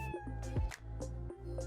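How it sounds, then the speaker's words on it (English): Cronut, a sweet orange cat, gives several short throaty meows and chirrups, fairly close, layered over a steady low hum and game music. "Cronut, your sweet orange cat rubs up against your chair, leg with a throaty chirrup."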